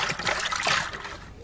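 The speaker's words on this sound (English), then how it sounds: "Locke's so full of water, it's amazing he hasn't completely shorted out" Water sloshing and trickling inside the robot Locke in Fortnite, a continuous wet dribbling and splashing close up, steady in level throughout.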